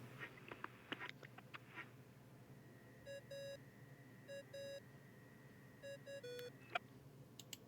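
The dodo device in Genshin Impact gives off a series of short, bright electronic beeping tones in paired bursts, moderately quiet over a busy ambient game background with scattered soft clicks and chimes.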